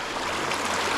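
Steady broadband rush of river water flowing around a small campfire spot set in the middle of a river in the Canadian wilderness, continuous and fairly close with no voices.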